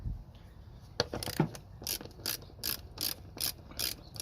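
A ratchet wrench clicks in quick bursts of pawl ratcheting while loosening a 10 mm bolt on a hose clamp at the throttle body of a 2010 or 2005 Toyota Prius, close up with a few spaced sets of clicks and no talking.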